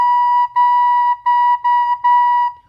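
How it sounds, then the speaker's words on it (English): Recorder sounding the note B, played softly: a pure, steady tone repeated in five closely spaced notes with brief breaks between them, close and clear. "So for a B, you're going to play the back hole and the very top hole,"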